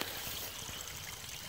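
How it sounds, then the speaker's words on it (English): Sewage bypass water from a treatment plant trickles through small waterfalls and gullies toward a lake, a faint, continuous rushing flow heard alone. "it just keeps flowing through these little waterfalls and gullies"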